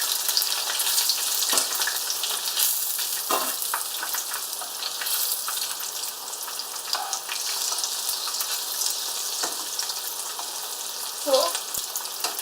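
Sweet and sour pork balls in batter frying in a pan give a loud, steady sizzle and crackle. Occasional soft knocks and stirring sounds rise over it, and no one talks.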